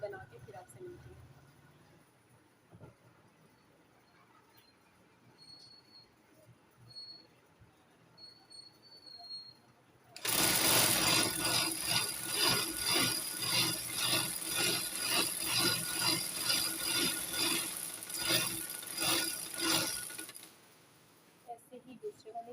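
A domestic sewing machine runs steadily for about ten seconds, stitching a frill for a two-year-old girl's frock, its rapid needle chatter loud and close after a quiet stretch, then stopping.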